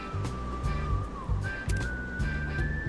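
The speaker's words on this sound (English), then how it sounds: "I like the whistle in the song." A melodic whistled tune carrying a song from the video game Like a Dragon: Pirate Yakuza, set in Hawaii, held as long clear notes over a rhythmic backing beat of steady pulses.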